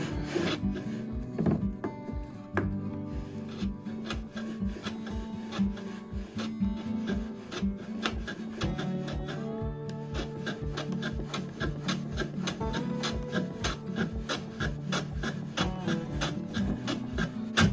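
A modified wooden hand plane shaves a fir strip set against a 45-degree guide, giving a steady run of rasping, scraping strokes that repeat rhythmically and grow fuller as the blade cuts along the whole length of the wood.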